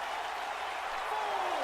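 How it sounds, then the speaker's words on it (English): Crowd noise swells behind a wrestler during a WWE 2K video game match, a steady dense roar of cheering and applause held at a constant level under the action. "You hear the crowd behind RANMARU"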